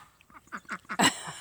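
Buff and Toulouse mix goose giving a run of short nasal honks, several quick calls spaced closely, close and fairly loud, ending in a couple of harsher, louder blasts.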